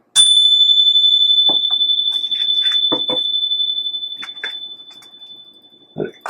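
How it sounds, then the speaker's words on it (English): A single struck chime rings out with a sustained bright tone that slowly decays across the clip, while a voice talks intermittently over it. "Let's give them a chime."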